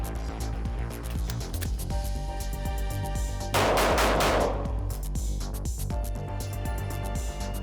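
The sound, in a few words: shots fired from a NURO training gun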